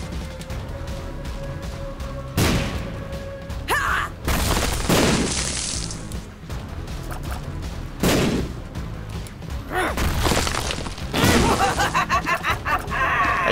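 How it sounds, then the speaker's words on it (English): Bombs going off in the video game The Binding of Isaac: Rebirth, several loud booming blasts spaced a few seconds apart over busy game noise. "Just gonna use bombs like crazy."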